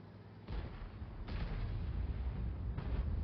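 In a tank video game, the Badger's cannon booms in heavy, rumbling blasts, one after another, loud and close, with a sustained low roar between shots.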